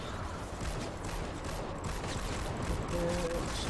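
Fortnite gunfire in a dense, continuous rattle of rapid shots over layered game noise, loud and sustained without speech.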